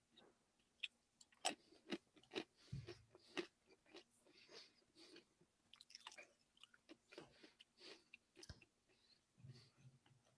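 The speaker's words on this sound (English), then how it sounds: "So Dorito wants to know whose nuts you're munching on" Close, crunchy chewing of nuts, with irregular sharp bites and crackles, quiet and intimate with no talking over it.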